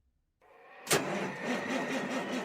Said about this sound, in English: As you fire up your diesel, you can see your breath on the inside of the cab.